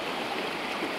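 A river stream rushing through the Western Tatras mountains: a steady, dense wash of flowing water, close and even throughout, with no voices.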